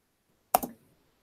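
A single quick clatter of a key, or two keys in rapid succession, on a computer keyboard, close and fairly faint against a quiet room.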